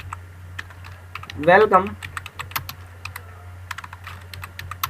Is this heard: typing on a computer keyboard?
yes